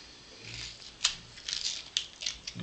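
Scissors snip through paper for a shabby vintage artist trading card, a soft rustle and then several sharp separate cuts in an uneven run, close and crisp in a quiet room.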